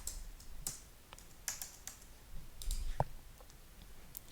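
Computer keyboard typing and mouse clicks at a desk while a resource name is entered, a quiet, close run of irregular light taps and clicks with a few brief pauses.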